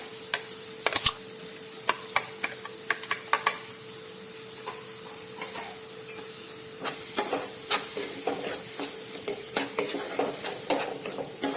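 Crushed fresh tomatoes, two large ones, going into spices frying in a kadai for a Punjabi-style green corn curry, giving a steady sizzle with scattered sharp stirring clacks and scrapes throughout.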